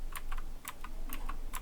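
Arrow keys on a computer keyboard pressed in quick succession, a run of crisp close clicks in an uneven rhythm against a quiet room.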